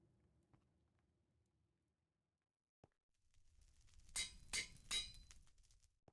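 Game hammer blows on metal at an anvil, shaping it into a plate in the Minecraft TerrafirmaGreg modpack, three bright ringing clinks in quick succession after a quiet lead-in.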